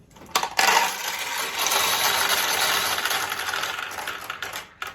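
A handful of steel pachinko balls pours into a 1973 Nishijin Model A pachinko machine, a dense, loud metallic clatter and rattle that runs steadily for several seconds before thinning out.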